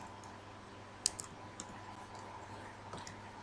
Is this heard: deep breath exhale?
no